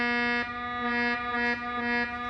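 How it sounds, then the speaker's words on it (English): A sustained tone on B sharp, the note reached by stacking twelve Pythagorean fifths up from C, sounding rough and buzzy with rich overtones and a slight pulsing waver throughout. "So when you go 12 fifths up from C, you reach a note called B sharp, which sounds like this,"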